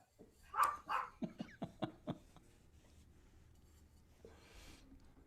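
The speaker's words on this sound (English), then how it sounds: "my wife's coming in the house. That's why the dogs are barking." House dogs bark in a quick burst of several faint yips and barks as someone comes into the house, fading to a quiet room.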